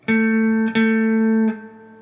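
Electric guitar note on the 7th fret of the D string, picked slowly three times with alternate picking, each sustained tone ringing clearly on its own before fading.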